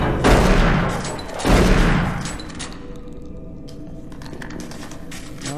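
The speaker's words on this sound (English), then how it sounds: "I was able to shoot him" Loud bursts of gunfire in the VR version of the video game DOOM 3, with two dense rapid volleys close together, then a quieter stretch of fainter crackling shots and a lingering tail.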